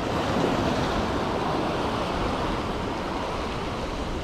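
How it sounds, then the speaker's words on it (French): Steady broadband roar of sea surf breaking along the shore while shore fishing for squid and cuttlefish with a jig, loud and continuous with some wind buffeting the microphone, no voices. "c'est une belle vague là"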